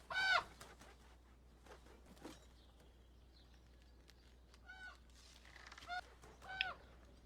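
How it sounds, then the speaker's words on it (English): Harsh crow calls come from a TV show in short, scattered bursts, some loud and some fainter, over a quiet background hiss. "What's with the crow? Crows always mean something."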